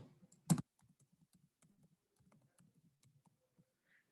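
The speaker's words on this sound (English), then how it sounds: "type in the vendor name" Keystrokes on a computer keyboard as a vendor name is entered into a purchasing web portal: a loud click burst near the start, then a soft, steady patter of light key taps with no talk.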